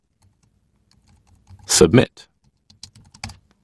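Clicky computer keyboard typing while entering CSS code, with a brief dense burst of keystrokes followed by a few scattered taps, close and clear, with someone speaking briefly.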